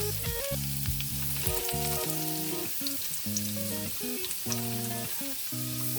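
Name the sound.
potatoes O'Brien frying in a pan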